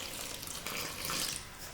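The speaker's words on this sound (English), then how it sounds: "I am going to add maybe another half cup" Water is poured into flour while chapati dough is mixed, a soft, close, steady trickling hiss lasting under two seconds with no speech.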